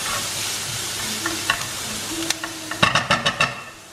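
Garlic sautéing in a pan over low flame with onions and capsicum for a mushroom meatball tomato sauce, a soft steady sizzle broken by several sharp stirring scrapes and clacks toward the end.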